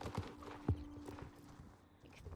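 Horse hooves clip-clopping in a video game, a few uneven soft thuds close by, with light game ambience and a faint background voice.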